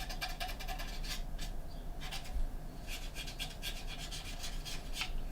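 Cotton bud rubbing model paint on a 1/25 scale Moebius Batmobile Tumbler kit, repeated soft scratchy strokes in quick rhythmic bursts, close and quiet.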